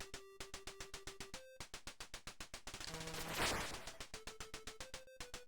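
Rapid, evenly spaced gunshots from the arcade game Vulgus repeat in a steady electronic rhythm, with beeping game tones and a burst of noise like an explosion partway through.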